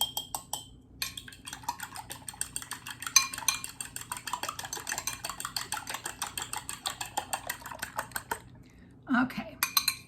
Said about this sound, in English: I'm just going to beat them lightly.